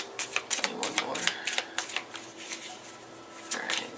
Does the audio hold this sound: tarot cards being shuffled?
yes